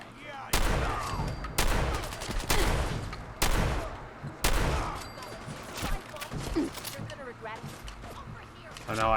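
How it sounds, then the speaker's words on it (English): Gunfire rings out in Fallout 4: a string of loud, sharp gunshots and bursts spaced about a second apart, with continuous shooting and chatter in between and voices talking over it. "lots of things shooting at us."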